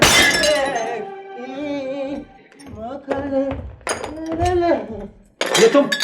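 Dishes crash and clatter in a Pakistani drama scene: a loud ringing smash opens, then further clinking impacts and a sharp crash near the end, with a voice singing and speaking throughout.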